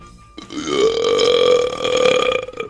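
A long, loud, drawn-out burp from a person, close to the microphone and lasting over two seconds with a steady rumbling tone, heard alone without talk.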